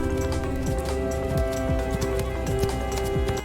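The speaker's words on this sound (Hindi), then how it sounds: "देखो प्यारे बच्चों, ये है हॉर्स। हॉर्स को हिंदी में घोड़ा कहते हैं। घोड़ा बहुत तेज दौड़ता है।" A horse gallops at speed, its hooves drumming a fast, continuous clip-clop rhythm, close and loud, over a steady musical backing with no voices.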